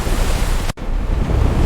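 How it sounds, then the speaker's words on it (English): Stormy waves crash under howling wind in a dense, loud, continuous roar, broken only by a brief cut before the surge resumes at full strength. "The waves are overwhelming us!"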